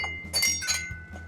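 Bar glasses, the inexpensive kind used in a working bar, clink together as they are handled, several bright ringing taps close by over a low background hum.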